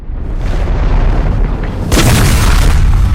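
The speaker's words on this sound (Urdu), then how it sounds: "ایک ایسا دھماکہ جس کی آواز نے دنیا کو ہلا کر رکھ دیا" A huge undersea volcanic blast rendered as a loud, deep rumbling boom that swells and then surges into a heavier roar partway through, filling the space with dense low thunder.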